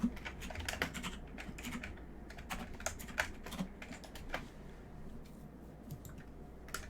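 Fingers tap away at a computer keyboard in quick bursts of clicky keystrokes with short pauses, close and fairly quiet, with no talking.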